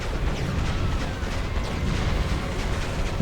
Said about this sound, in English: Shoot a bunch of rockets that lag the game.